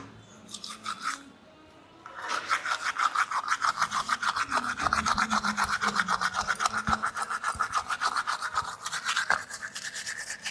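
A toothbrush scrubs teeth in fast, steady back-and-forth strokes, close and fairly loud, running without pause after a short quiet start; no one speaks.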